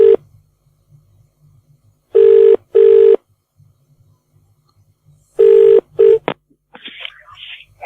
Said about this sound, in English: Bonzi, see if I can get him back on the phone.